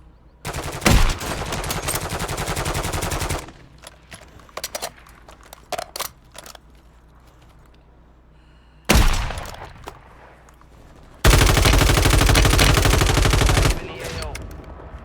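Video game gunfire comes in several loud automatic bursts: a long stream of rapid shots, a pause filled with scattered single cracks, a short blast, then another sustained burst that tapers off.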